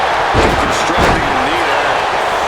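Heavy body-slam thuds from a Scorpion Death Drop in a WWE 2K wrestling video game, dull booming impacts under crowd roar and commentary.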